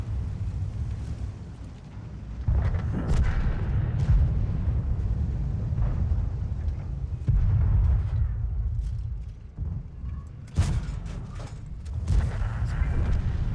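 Tank guns fire in the online game World of Tanks, with several heavy booms rolling over loud, continuous engine and battle rumble across the stretch.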